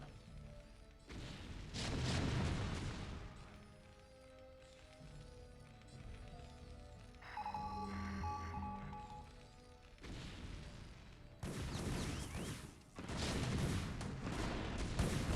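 Siege tanks firing in StarCraft: Brood War, heavy booming artillery blasts in several bursts with quieter battle noise between them and no talk.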